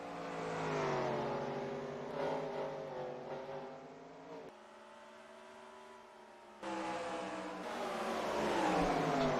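Stock cars racing under the lights at Bristol after a green-flag restart: a loud, continuous roar of multiple engines revving and droning, with pitch rising and falling as cars pass, and a brief quieter stretch before the pack surges again.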